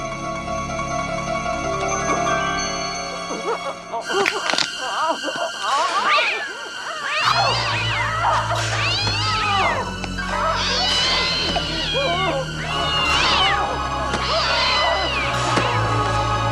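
A cat meows and caterwauls repeatedly in a film scene, loud and close, with long drawn-out wailing cries over a steady background drone.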